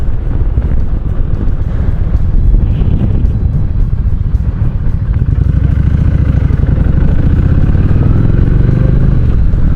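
A motorcycle ridden on a cool day drones loudly and continuously, its engine note rising and climbing in pitch through gear changes, with wind buffeting the microphone.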